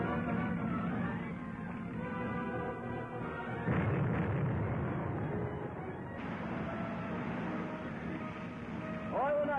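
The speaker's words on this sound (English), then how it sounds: "That's a 3-inch shell they're firing at us." Three-inch artillery shells fired at a boat, heavy booming blasts and rumbling impacts running loud and continuous throughout, with a sharp burst of louder roar midway.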